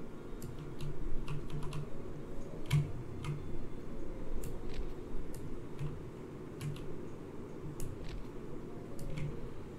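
A computer mouse clicks while dragging in a factory and railway building game, giving faint, sparse, sharp ticks scattered over a low background hum.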